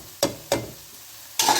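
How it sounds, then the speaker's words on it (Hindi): Khagina, Pakistani-style spiced scrambled eggs, stirred in a hot pan: three scraping, sizzling strokes at irregular intervals, the last longer and louder, with a soft frying hiss between them and no talking. "ये देखें इसको आप हिला दें अच्छी तरह से, रुकना नहीं है"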